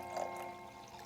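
Liquid pours steadily into a container of indicator solution in a short, soft, continuous trickle with no talking.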